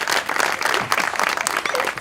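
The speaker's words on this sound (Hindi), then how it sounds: "ताली।" Audience applause, a dense burst of many hands clapping, close and fairly loud throughout the short moment.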